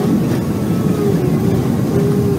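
Airliner engines roaring in reverse thrust just after touchdown, a loud, steady low rumble with a faint tonal whine running through it, continuous for the whole moment with no talk.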